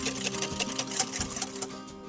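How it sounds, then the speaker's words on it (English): Egg yolks are whisked with caster sugar in a bowl, producing rapid, steady rattling clicks close by with no talking. "you now need to whisk your egg yolk until pale and fluffy"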